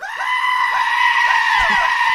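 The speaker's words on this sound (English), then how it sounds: "The sound of not one, but a swarm of goats all screaming at once" A crowd of goats scream together, a loud dense sustained wavering bleat with many overlapping voices and no pauses.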